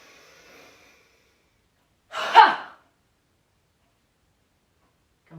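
A single deep breath during a yoga class, heard as one forceful, breathy exhale lasting under a second, fairly close and alone, with a faint murmur of talk before it and a brief soft sound at the end.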